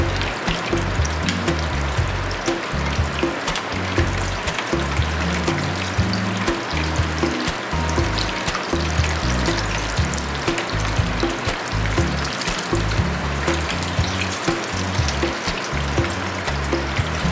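Bison arancini frying in hot oil, a steady, dense sizzle with crackling bubbles running continuously and fairly loud, no voices over it.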